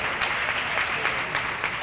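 A tennis crowd at the 1990 US National Championships singles final applauds a nice shot, a dense steady clapping that fills the stands for under two seconds.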